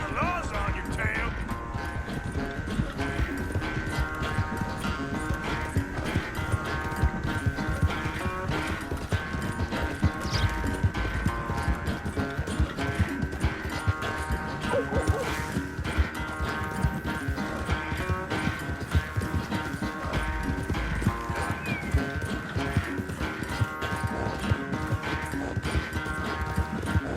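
Horse galloping in Red Dead Redemption 2, steady rapid clip-clop of hooves over a long stretch, a neigh now and then, with a music bed and people talking over it.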